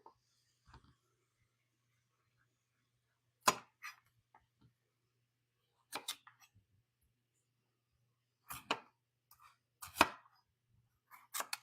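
A knife chops through buttercup squash on a cutting board in a home kitchen, giving several sharp, separate thuds in loose clusters, close and fairly quiet, with no talking.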